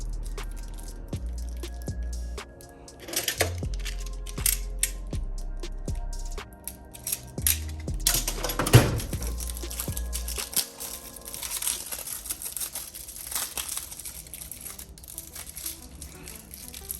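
Packaging around a Gyeon mild clay bar is unwrapped and torn, giving close, loud crinkling and crackling that comes in bursts with some sharp tears, over a low steady hum.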